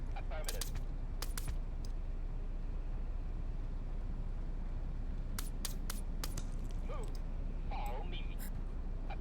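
Goose honks in the wave survival game From Glory to Goo, brief bright calls popping up a few times over a constant dense game noise background.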